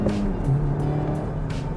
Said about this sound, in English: let's go first gear, let's give it a bit of a poke. All right, all the way to red line.